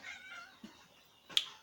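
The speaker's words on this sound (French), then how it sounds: "Donc le chat il sait quand j'arrive." A cat inside a small shop in Montenegro gives a faint, brief meow near the end of a quiet stretch, with soft ambient hum around it.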